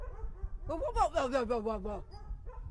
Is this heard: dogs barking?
yes